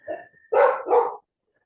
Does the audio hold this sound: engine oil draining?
no